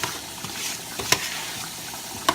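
Grated Parmesan being stirred into risotto in a pan: a soft, low sizzle with a few scraping strokes and two sharper clicks of the spoon against the pan, close but quiet.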